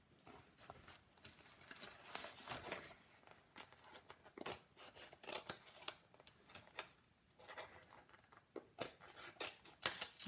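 Scissors cut out a paper decoration for a painted birdhouse, making faint, irregular snips and crisp clicks in quick bursts with short pauses, close up and quiet.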